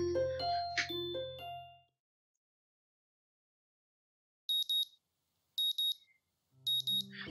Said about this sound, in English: The sound of an alarm pulls me out of a fitful slumber and into the unpleasant state of wakefulness.